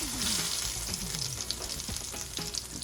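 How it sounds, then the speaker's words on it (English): Breaded bluefish fillets sizzle steadily in hot oil, a close, continuous crackling fry with small pops and bubbling throughout, no voices over it. "Now time for our breaded bluefish fillets. We got some hot oil right here."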